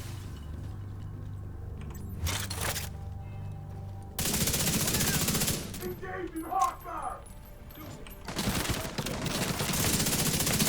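Rapid bursts of automatic gunfire from a firefight in The Division 2 crackle loud and close, with bursts alternating with brief lulls and a voice talking in between.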